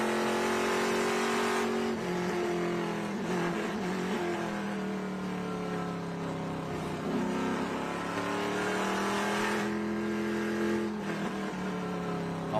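TA2 race cars racing at Sebring, heard on board one car running in traffic: a loud, steady engine drone with rising and falling pitch through shifts and corners, continuous for the whole stretch.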